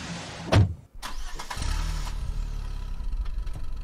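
A McLaren car engine in a video game sounds as a sharp thump, then a start-up and a steady, throaty idle with slight revving underneath, close and moderately loud.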